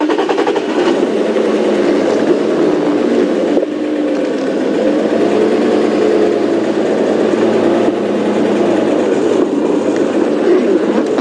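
A safari vehicle on a morning game drive near a hyena den rumbles steadily as it is repositioned slightly, a continuous close engine drone with no talk.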